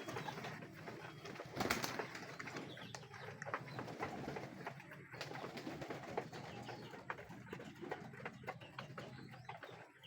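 A flock of young racing pigeons circling and settling, with steady cooing and rustling wingbeats from several birds nearby, continuous and moderately faint.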